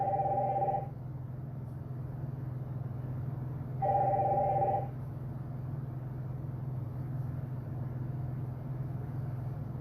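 Telephone ringing with an incoming call during a live call-in show: two electronic ring bursts, at the start and again around four seconds, over a steady low hum with no talking.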